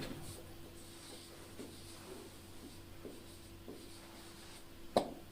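A pen writing an accounting journal entry on paper, producing soft, close scratching strokes in short bursts, quiet and alone, ending with a single sharp tap.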